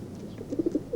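A pigeon gives a short run of soft, low coos, several quick pulses close together, with cold-weather outdoor ambience around it.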